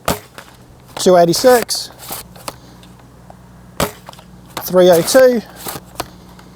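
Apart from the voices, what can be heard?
Worker Kunlun foam dart blaster firing heavy darts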